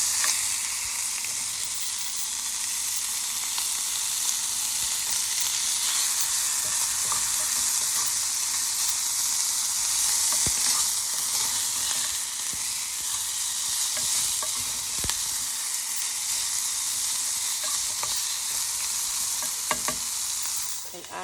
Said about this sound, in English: Just let that meat get a little brown. Let it cook some before you start adding other ingredients.